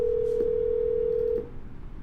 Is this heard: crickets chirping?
no